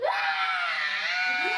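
A boy screams loudly in one sustained, shrill, high-pitched cry that stays near and constant throughout, with no talk over it.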